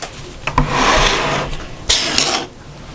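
A sewing machine is slid and shifted into place on a table over fabric laid out for a patchwork shopper bag, giving two long rubbing, scraping pushes with small knocks between them, close and fairly loud.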